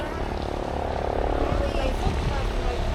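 Helicopter arriving over Abu Dhabi city, a steady broad rotor and engine roar throughout, fairly loud and continuous, with people talking faintly under it.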